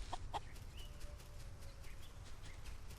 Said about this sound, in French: Je sais qu'il y a une poule qui est là-haut.